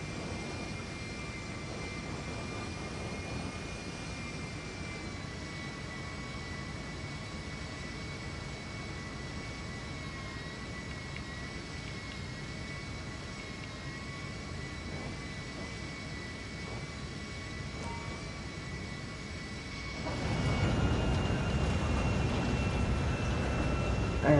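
A jet aircraft in GTA Online rolls along a taxiway toward a hangar, its steady engine whine and broadband roar holding level before swelling louder near the end as thrust builds.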